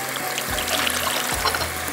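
Water is poured into a pot of soaked sela rice for fish pulao, making a steady close trickle and splash that briefly shifts in pitch partway through.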